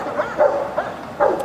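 A dog barks loudly in short, repeated yips and woofs, four quick barks spaced irregularly, close by with little else around.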